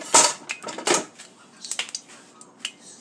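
Mushrooms tipped into a pan with a tablespoon of oil for a veggie meal, giving a few close clattering knocks and scrapes against the pan in short bursts, with no voices.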